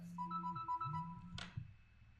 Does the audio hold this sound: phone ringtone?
yes